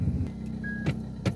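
A car pulls up and idles nearby with a low engine rumble, punctuated by a few short mechanical clicks and whirs.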